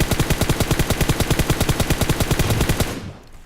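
M4 rifle in PUBG Mobile firing full-auto, a rapid, even burst of loud, punchy shots at about eight per second for nearly three seconds, then cutting off into a brief fading tail.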